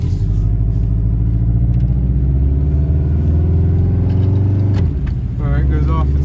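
A 1990s Subaru engine with an automatic transmission idles and revs as the gearbox shifts down, a steady close rumble that dips briefly, then the revs climb again.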